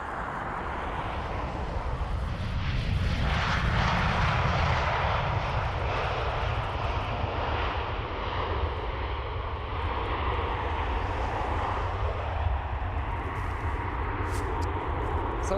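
A jet airliner coming in to land at Dublin Airport, a steady loud engine roar with broadband rumble that holds throughout without any break, with no voices heard over it.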